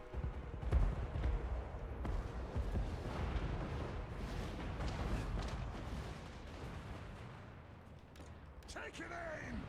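Dwarf organ guns and other artillery firing in a Total War battle, a dense stretch of rumbling booms and crackling volleys with a loud blast near the start, mixed with battlefield noise and voices.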